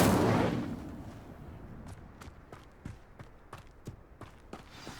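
The Incendio fire spell in the Hogwarts Legacy video game opens with a loud whooshing burst that fades over about two seconds. A series of quieter, evenly spaced footstep-like taps follows.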